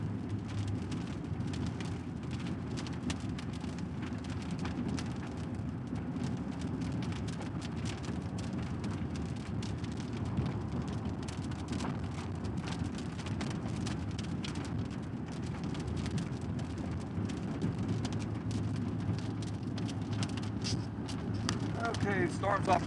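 Rain falls steadily during a Central Texas severe thunderstorm, a continuous soft hiss with a low rumbling undertone, heard from inside a storm-chasing vehicle with occasional faint voices.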